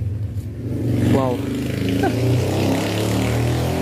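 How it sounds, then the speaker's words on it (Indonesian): A noisy motorcycle rides past in a village setting, its engine rising to a loud close pass with a droning, revving tone while a voice talks over it. "Aduh, bising banget motor."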